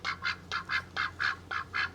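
A duck quacks eight times in a steady rhythm, each call loud and close with no talking.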